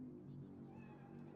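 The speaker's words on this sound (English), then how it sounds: "Chill, just a cat." A cat in a video game set in Night City gives a single drawn-out meow, fairly close and moderately loud over a low background hum.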